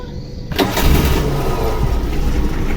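A car engine with a CNG idle line fitted cranks and catches into a loud, close, steady idle that carries on to the end.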